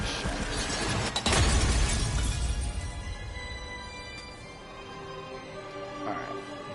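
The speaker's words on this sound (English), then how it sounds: "The frozen heart's going to become solid, and then it's going to shatter." A frozen heart shatters in the Medievil video game, a loud burst of breaking, crashing noise near the start that decays into a ringing, echoing tail, with a smaller chime later.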